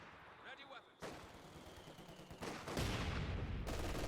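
Gunfire and explosive bursts from the Company of Heroes 2 battle game build into dense, continuous shooting that grows louder toward the end. The firing carries on without a break.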